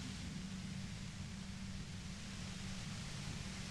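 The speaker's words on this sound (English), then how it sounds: "You hear through the white noise. It's especially bad suddenly." A continuous, even wash of soft hiss with a low rumble underneath forms a steady white-noise effect in the video game Disco Elysium, faint and unchanging, with no voices.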